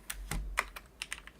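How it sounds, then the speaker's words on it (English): Several sharp, irregular key clicks from a computer keyboard, close and fairly quiet, with no talking. "My keyboard went to sleep because I haven't been typing for a while."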